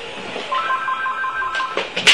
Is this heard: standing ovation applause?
no